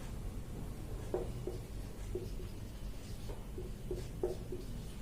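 Chalk or marker strokes on a board in a biology classroom lecture, a series of short scratchy taps and scrapes in small bursts over steady room noise, with no talking.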